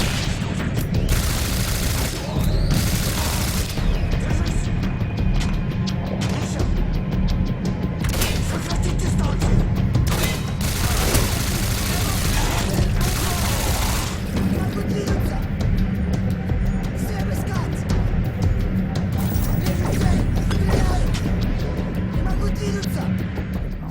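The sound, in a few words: autocannon fire and rocket explosions in the video game Singularity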